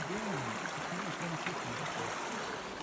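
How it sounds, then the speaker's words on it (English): Steady broadband rush of a stream at a water crossing on the Appalachian Trail, continuous and close, with low voices briefly murmuring underneath. "This is our next water crossing."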